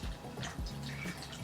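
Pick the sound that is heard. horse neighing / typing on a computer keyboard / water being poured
water being poured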